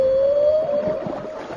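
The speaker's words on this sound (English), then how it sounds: "did you hear the sound of the whale?" A whale calls once, a single long, clear moaning tone that rises slightly and then fades into a wash of water ambience.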